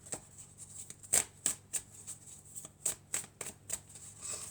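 Tarot cards being shuffled and drawn in a quiet room, a series of crisp flicks and slaps in irregular bursts, close and clear, with one sharper snap near the start.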